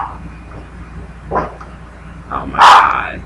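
A pet dog named Romeo barks at someone at the door in a home, two or three short, sharp barks a little apart, the last loudest, against a quiet room.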